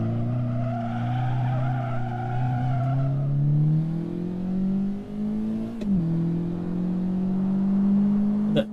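A car in a racing video game skids and nearly crashes: a droning engine climbs steadily in pitch under a tire squeal, with a brief knock partway through, and no voices.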